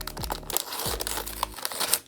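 Crinkling of a small black plastic bag from a Barbie Basics doll kit, a dense rustling texture of close crackles running steadily for about two seconds, with low thumps underneath and no talk.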